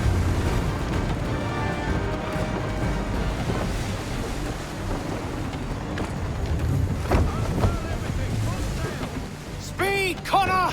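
A sailing ship in Assassin's Creed 3 pushes through open water, with a steady broadband wash of waves, wind and hull noise throughout, and a brief burst of chirpy cries near the end.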